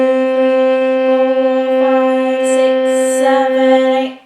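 A violin sustains one steady, unchanging note on the G string with a long, even bow stroke, loud and close and alone, fading out at the very end.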